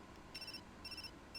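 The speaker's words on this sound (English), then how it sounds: "That's a phone!" A phone rings in the video game Hakuoki SSL with three short, faint electronic trilling bursts separated by brief gaps.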